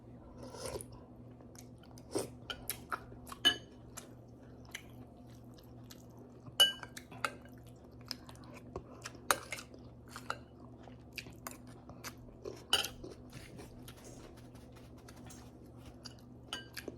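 Someone eating Filipino beef papaitan soup with rice: close, irregular chewing and slurping with occasional sharp clinks of spoon against bowl, over a steady low hum, with no talking.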